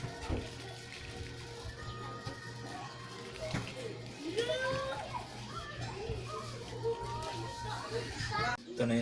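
Neighbour's children playing noisily nearby, a steady jumble of young voices, shouts and chatter with occasional higher squeals throughout, under a constant low hum.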